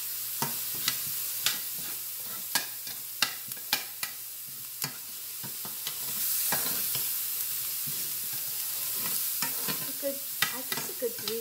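Onions frying for Cuban picadillo, a steady soft sizzle broken by sharp clacks of a spoon against the pan, close and clear with no talking.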